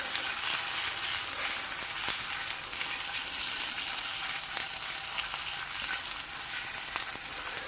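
Great Value Vermont maple sausage frying in a pan, a steady close hiss and sizzle with small pops and crackles throughout, no voices.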